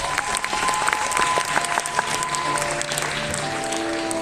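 An audience at a cosplay contest final applauds loudly and steadily, a dense wash of clapping with a few sustained tones ringing underneath.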